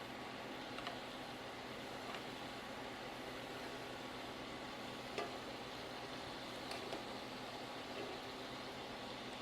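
Onions, garlic and Old Bay seasoning cook in a skillet, giving a steady, even sizzle and hiss that runs unbroken with only faint small crackles on top.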